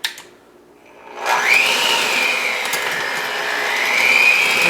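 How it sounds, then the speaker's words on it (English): An electric hand mixer starts up after a short quiet pause and whirs steadily and loudly, its motor pitch wavering slightly as it beats an egg into chocolate cake batter. "We'll grab our mixer."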